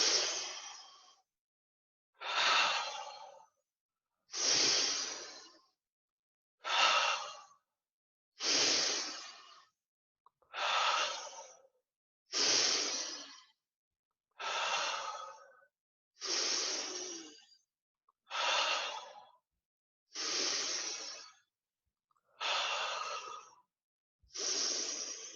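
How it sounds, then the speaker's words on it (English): Deep Wim Hof breathing carries on in a steady rhythm, about a dozen full breaths drawn in and let out through the mouth or nose, each a loud close rush of air with a short silence between. "full breath in, either with your mouth or your nose, and then release"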